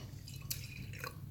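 Faint water splashes and drips inside a glass being rinsed of bright pink beer-tinted water, two short wet splashes over a low hum.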